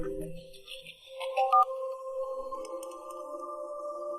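A phone rings with sustained electronic tones that sit at a steady level, following a few brief blips at the start, fairly loud and alone.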